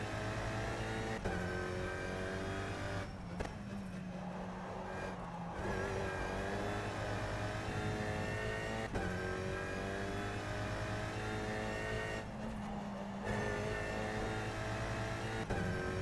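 Tatuus LMP2 race car in rFactor 2 driving, a continuous loud engine drone that rises in pitch, drops briefly on two upshifts or lifts, then climbs again.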